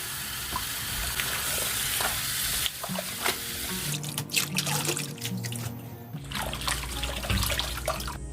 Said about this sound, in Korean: 이 상태로 그대로 물을 받아서 씻어주세요